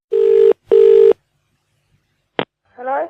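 A telephone ringback tone sounds as a call is placed from a radio studio: two steady double-burst rings, then a sharp click as the line connects and a voice answers.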